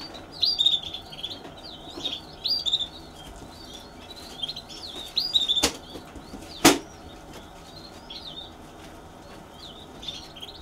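Canaries sing in a breeder's bird room, with quick chirping and trilling phrases that repeat throughout at moderate distance and a few sharp knocks or wing flutters, and no one speaking.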